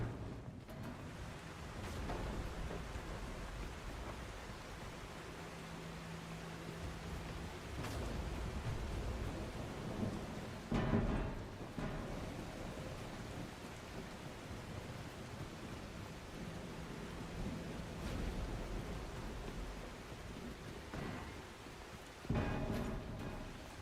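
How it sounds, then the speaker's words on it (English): Storm ambience from the video game The Last Caretaker, a constant broadband hiss of rain with low rumbling swells and a few sharp cracks scattered through, moderately loud and without speech. "This storm is epic."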